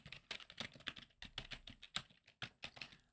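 Quick bursts of typing on a computer keyboard as a file name is entered, clicky keystrokes in uneven clusters, close and quiet with no talking.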